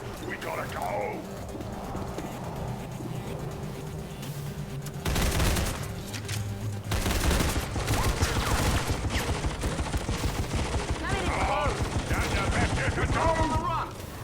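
Gunfire in the video game XCOM 2 breaks out as rapid bursts of crackling automatic shots, repeated and fairly loud, following a quieter stretch, with a voice talking over it.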